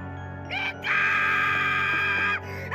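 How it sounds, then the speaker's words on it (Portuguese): A woman screams desperately in a horror film scene, a loud, sustained, piercing shriek that rises after a brief lead-in cry and holds for nearly two seconds before cutting off. "ouvimos ela dar um grito desesperado que acorda o Micah"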